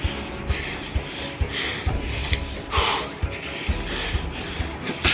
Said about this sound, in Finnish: Pasi puuskuttaa aika lailla siellä jo.